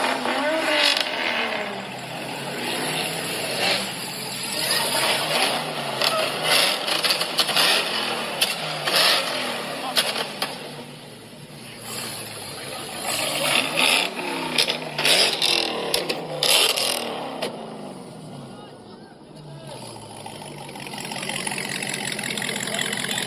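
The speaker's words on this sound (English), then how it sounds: "This Hellcat had the craziest burnout at the car meet." A Dodge Hellcat does a burnout at a car meet: a loud, sustained engine roar with repeated revving surges and broadband tire noise, with no talking.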